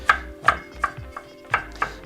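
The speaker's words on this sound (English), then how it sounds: "followed by fine mincing some ginger here" A knife finely mincing ginger on a cutting board in a home kitchen, with a handful of distinct, close chops spaced irregularly and quiet gaps between the strikes.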